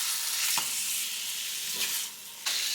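Food sizzles in a pan as it is broken up, a bright steady hiss with a few sharper scraping bursts where it is pushed around.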